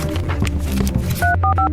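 A telephone number is keyed in, a quick series of short touch-tone beeps at the end after a stretch of muffled background sound.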